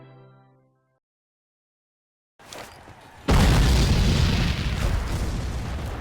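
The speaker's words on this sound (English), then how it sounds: "Union artillery decimates Southern ground troops." Civil War artillery fire in History: Civil War Secret Missions, a sudden heavy boom breaking after silence and rolling into a loud, sustained roar of blasts and rumble.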